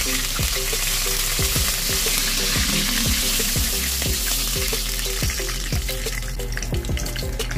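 A second batch of chicken pieces frying in hot oil gives a steady, loud sizzle, dotted with regular popping crackles throughout and no voices.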